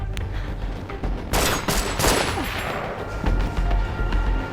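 Gunfire in a film as a woman named Berg shoots two soldiers outside: a dense burst of loud shots with heavy booms and echoing tails, followed by a few further scattered reports.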